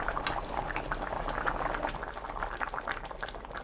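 Squid kimchi porridge bubbles in a pot, a close, steady thick boiling with dense popping and a faint clink of a utensil, no speech.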